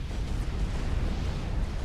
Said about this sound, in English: Another explosion? Oh, it's just another nuke landing.